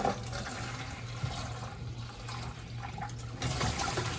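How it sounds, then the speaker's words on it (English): A pitcher of water poured fast into pipes makes a steady, close rush of splashing and gurgling that continues throughout and swells louder near the end, with no speech. "we're gonna pour this as fast as we can into our pipes"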